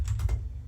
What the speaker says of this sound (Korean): 이건 타이핑을 그냥 칠게요